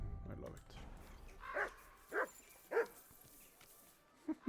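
A dog in Kingdom Come: Deliverance II gives three short barks in a steady sequence, then two faint yips, against a quiet background where a person's voice is also heard.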